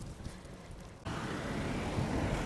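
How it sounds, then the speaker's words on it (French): Strong wind blowing outdoors in the centre of El Ouatia town, a steady broadband roar that jumps abruptly louder about a second in and then holds, with no voices. "il y a beaucoup de vent"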